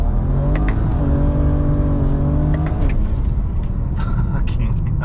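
Street car with a drag-tuned transmission accelerating hard, engine tone rising steadily then dropping at a firm gear shift before climbing again, loud and close with a voice talking over it.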